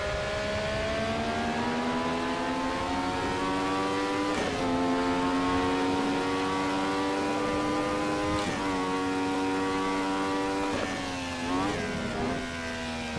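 The Nissan NP35 race car in the racing game Assetto Corsa holds a steady, buzzing engine note that climbs through the revs, with clear drops at each gearshift before rising again.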